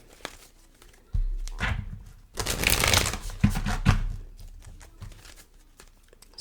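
A new deck of cards is shuffled by hand in several bursts: soft riffling and flapping with sharp clicks between them, close and fairly quiet, with no talking.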